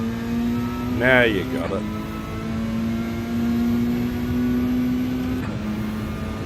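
A Bugatti Veyron engine drones steadily in a daily race in a racing video game, holding a constant pitch with a brief rising rev early on, while someone talks over it.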